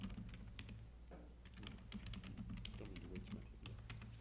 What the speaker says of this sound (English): I'm typing here